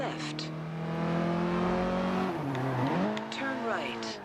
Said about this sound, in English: That was actually a really good drift